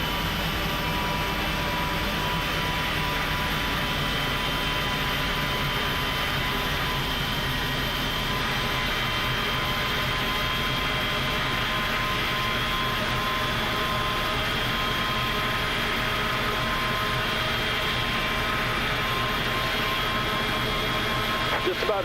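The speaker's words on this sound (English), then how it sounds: "Here comes the engines." Airbus A300 jet engines spooling up in a flight simulator cockpit, a steady broadband roar with a sustained tonal whine, continuous and even throughout without talk.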